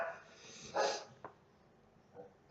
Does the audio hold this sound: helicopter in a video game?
no